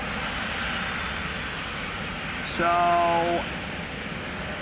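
Broadband jet engine roar from aircraft on the runway at Amsterdam Schiphol, including an Air France Embraer 190 flying for KLM, fills the scene steadily, with a brief voice speaking over it partway through.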